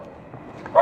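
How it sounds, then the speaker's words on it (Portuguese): A neighbor's small dog gives a single short bark from a backyard, coming in at the very end after a brief quiet stretch. "Meu vizinho aí tem um cachorrinho e ele tá brigando comigo aqui porque eu estou conversando no quintal."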